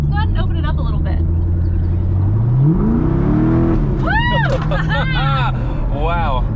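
A neglected C6 Corvette accelerates hard on the road, its V8 note rising steeply in pitch and volume before dropping at a shift, while excited voices whoop and talk over the engine.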